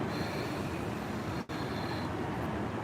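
Inside a train station, a steady, loud rumbling wash of noise with a faint high whine drops out for an instant midway, then resumes; no one speaks.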